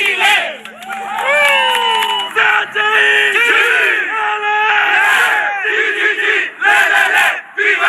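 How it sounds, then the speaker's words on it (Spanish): A large crowd in Chile roars and shouts "Viva Chile" in loud overlapping cheers and cries, with excited voices rising and falling continuously throughout. "Vieron la gente gritando viva Chile"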